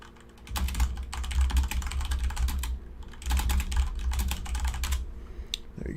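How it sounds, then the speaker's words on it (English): Someone types a message on a computer keyboard, rapid close keystrokes in steady runs with a few short pauses between bursts. "Okay, so I'll just type a message to him."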